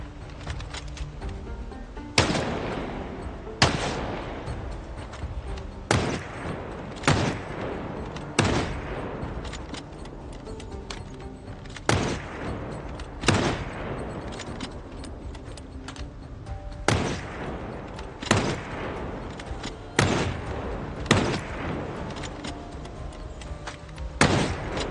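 Repeated gunshots from Project Zomboid in a long Build 42 playthrough, single sharp cracks spaced a few seconds apart, roughly a dozen over the stretch, loud over a steady droning background with no talk.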